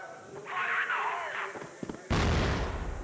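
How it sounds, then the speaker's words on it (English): A grenade detonates in the CrossFire video game, a sudden loud broadband blast cutting in after a stretch of game sounds and voice, its noisy boom sustaining to the end. "Well, that looked like it was going to be a good nade."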